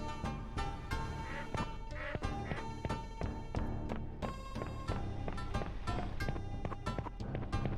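Faint duck quacks come through in the video game Skies of Arcadia Legends, interspersed with rhythmic footsteps and background game music at low volume, without any speech.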